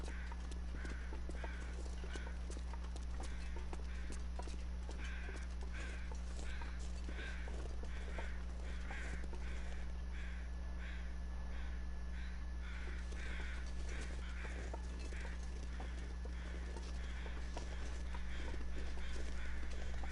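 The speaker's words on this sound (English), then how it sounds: "I can't believe there's crows out." Crows caw repeatedly in the foggy wilderness of The Long Dark, a run of harsh calls at moderate distance over a constant low hum.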